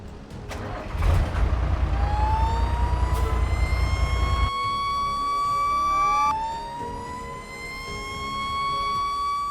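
Fire truck siren in an emergency rescue simulator game, wailing loudly with steady rising and falling sweeps over a rumbling engine bed, dropping briefly before a second siren cycle rises again and continues alone.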